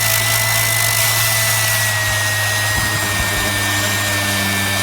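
A Jellas 5-inch random orbital sander runs at high power with a loud, continuous whine and buzz, its tone shifting slightly partway through, with no talk heard.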